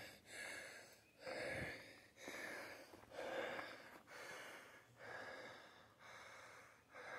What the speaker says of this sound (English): I'm breathing kind of heavy.